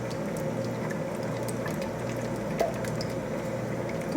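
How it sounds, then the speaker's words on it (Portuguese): Three eggs are whisked by hand in a small bowl, giving a steady, wet, sloshing swish that continues evenly without a break. "Eu vou usar 3 ovos, agora eu vou mexer com o fouet"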